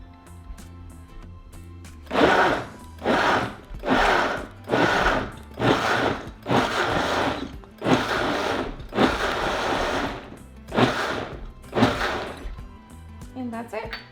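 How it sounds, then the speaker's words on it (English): Food processor pulsing salsa ingredients with salt in repeated short bursts, about nine broadband pulses of a few seconds each with brief pauses, close and loud with no talking. "we're just going to pulse it until everything is well mixed"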